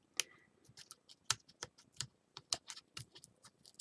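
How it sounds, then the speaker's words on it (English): Backing paper is peeled off adhesive tape at a craft table while working on a mini album cover, giving a quick run of sharp, close crackling clicks and ticks in an uneven rhythm. "So I'm going to release my tape here."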